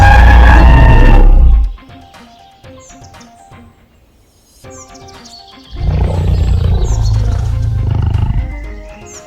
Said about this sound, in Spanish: un rugido que la verdad impone respeto la primera vez que lo escuchas dentro del juego